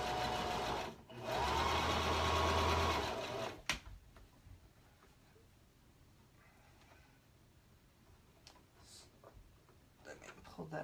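A sewing machine stitches a dress during beginner dressmaking. One loud, steady run of a couple of seconds gives way to quiet handling and a faint voice.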